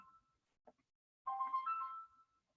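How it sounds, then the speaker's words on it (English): A mobile phone rings indoors with a short electronic melodic ringtone burst, moderately loud and alone after a brief faint click. "excuse me, my phone is ringing."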